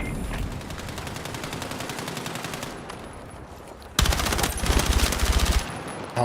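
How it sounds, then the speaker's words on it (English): Rapid automatic gunfire from a video game weapon, loud and close, in sustained bursts with a brief lull before a harder, denser volley. "It's just a recoil. I can't control this gun."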